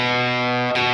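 Electric guitar with distortion and effects playing a single sustained B note from a riff, then cut short by a fretting-hand mute near the end for a staccato stop, loud and close.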